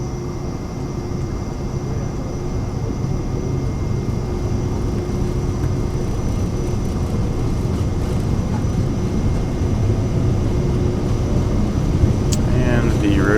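Cirrus Vision Jet turbofan engine spooling at takeoff thrust, a steady loud broadband roar with a constant high whine, continuous throughout, with faint cockpit voices beneath.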